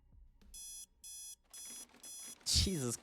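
An electronic alarm beeps four times in an even, steady rhythm, each beep a loud tone of about a third of a second, followed by a louder burst where a voice seems to cut in near the end.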